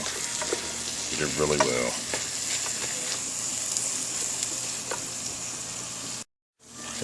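Corn fries in a pan with a steady, loud sizzle, broken by scraping stirs and folding. A voice speaks briefly near the start, and the sound cuts out for a moment near the end.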